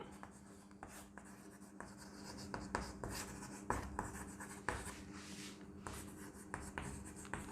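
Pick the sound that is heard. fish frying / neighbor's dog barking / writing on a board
writing on a board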